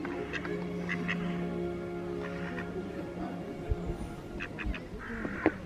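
A duck at a theme park garden quacks several times amid outdoor ambience, the calls brief and fairly close, with faint background voices.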